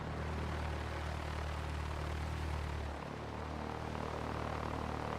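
Steady drone of a Piper Fox light aircraft's propeller engine in the X-Plane simulator, a constant close hum that dips slightly in pitch partway through and then holds, with no talk.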